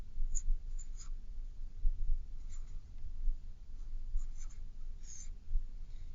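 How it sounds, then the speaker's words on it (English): A marker squeaks and scratches across a surface in short strokes, several separate marks made over a low steady rumble. "I'm going to use my marker."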